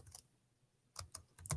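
Soft, quick keystrokes on a computer keyboard come in short clusters with a pause between them, close and quiet, with no voice.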